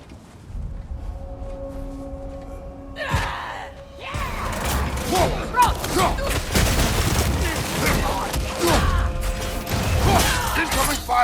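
Incoming enemy fire in the video game God of War Ragnarök: after a quiet mechanical stretch, a sharp impact hits, then dense bursts of blasts, crashes and clattering debris rattle on continuously and loudly.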